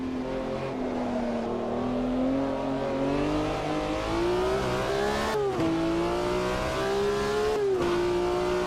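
Race car engine in the sim racing game Automobilista 2 droning steadily while weaving to warm the tires, pitch climbing gradually with two brief cuts at gear changes, loud and alone with no talking.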